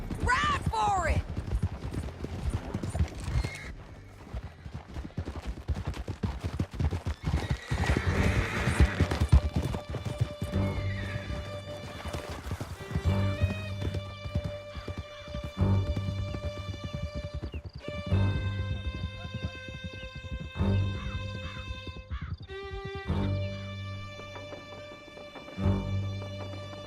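Horses gallop hard in Red Dead Redemption 2, with rapid clip-clop hoofbeats, a whinny and clattering action close up, as the music swells over them and voices call out.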